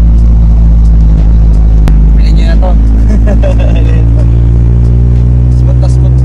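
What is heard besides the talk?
Toyota Corolla project car engine running while driving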